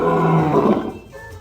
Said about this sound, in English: Heard from up to 5 miles away, the lion's roar is an awesome sound